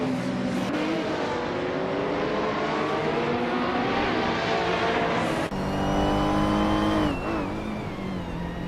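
A 1996 Lamborghini Diablo racing engine in a video game roars loudly and continuously, revving up through gear changes with pitch climbing and shifting, close and unbroken.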